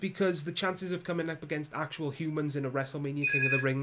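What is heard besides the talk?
mobile phone ringing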